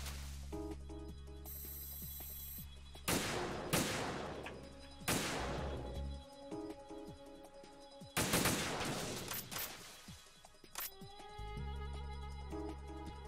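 Gunfire in Metal Gear Solid 2 aimed at floating gun cameras: several loud, sharp bursts of shots spaced over the stretch, each ringing out over a droning electronic game soundtrack with tonal beeps.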